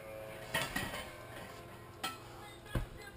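A cooking pan being pulled out for a small batch of mac and cheese, giving a few light metallic clanks and clatters, one at a time with pauses between, fairly close but not loud.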